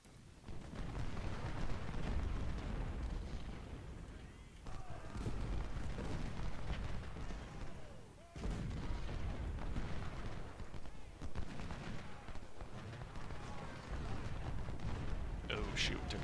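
Booming artillery canister fire and musket volleys in a Civil War battle game at Stones River, loud and continuous with heavy low rumbling blasts throughout.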